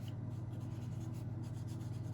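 A marker colors over paper, steady continuous scratchy strokes close and quiet, with a low hum underneath and no talking.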